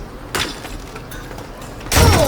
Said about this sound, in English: Oh, I just smashed the table.